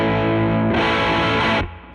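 A Telecaster-style electric guitar with offset Broadcaster styling, played through the bridge pickup with the tone rolled down, gives a sustained, slightly distorted chord that brightens and thickens partway through before cutting off and fading.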